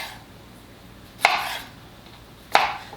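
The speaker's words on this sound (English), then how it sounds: "So I'm going to cut them in half again and into quarters." A kitchen knife cuts Roma tomatoes into quarters on a board, giving two sharp, close chops about a second apart against a quiet background.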